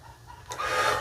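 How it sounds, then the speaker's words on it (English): A chicken clucks and squawks in a short, loud burst that starts abruptly halfway through, rising over quiet background noise. "There's a chicken going off."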